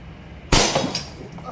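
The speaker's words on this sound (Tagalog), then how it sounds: "Basag kagad sa pangalawang tira." Glass target shatters from an airsoft gas pistol shot, a WE Hi-Capa 3.8 Brontosaurus, in one sudden loud crash with a brief scatter of falling shards after silence, faint voices murmuring in the background.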